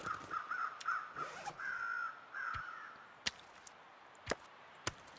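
Crows caw repeatedly at moderate distance in a snowy survival game, their harsh calls coming in short bursts before giving way to three sharp chopping impacts.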